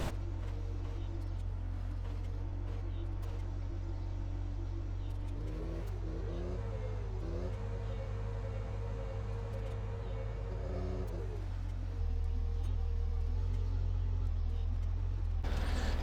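A bale stacker vehicle in Farming Simulator 17 drives along with a steady low engine drone that shifts pitch midway as it works, continuous and fairly loud throughout.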